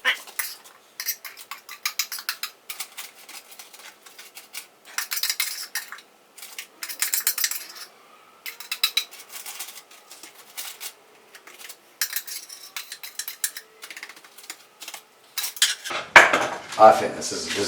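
A whisk or spoon clinks and scrapes against a bowl while whipped cream, vanilla and sugar are mixed, in rapid, irregular bursts of metallic tapping that grow louder near the end.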